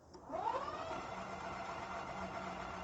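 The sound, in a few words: Ghostcat F3 Pro 1500w ebike motor running on throttle without load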